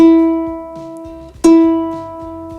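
A single open E string on a ukulele rings out clearly, decays, then is plucked again once more, sustaining with a bright, steady tone.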